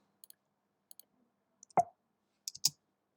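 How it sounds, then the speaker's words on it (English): A few light, isolated clicks of a computer keyboard's return key, faint and sparse, with a slightly louder tap near the middle and a pair of quick clicks toward the end. "If we click return"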